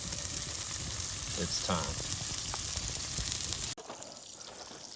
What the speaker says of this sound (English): so we are gonna flip these sausages now. They got a great sound coming from them.